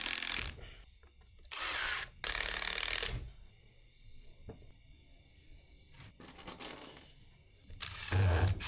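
Screw driven into a 2x4 wood bench in a hay barn, with the screw striking another screw below: several short, harsh bursts of driver whirring and grinding, separated by quiet pauses, close by.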